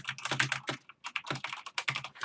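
Rapid clattering keystrokes on a Corsair K95 Platinum mechanical keyboard, a dense irregular run of close, crisp clicks with one brief pause partway through.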